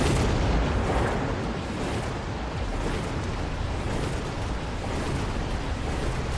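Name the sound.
missile explosions in the Mecha Mini Masters video game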